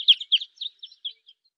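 Evening grosbeak calls recorded in central New York: a series of about six short, clear chirps in an irregular rhythm, loud at first and then growing fainter, with no voices.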